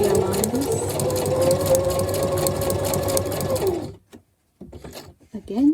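A home sewing machine stitching a zigzag stitch on junk journal pockets, a steady loud whirring run for about four seconds that stops abruptly, followed by faint handling noises and a brief voice.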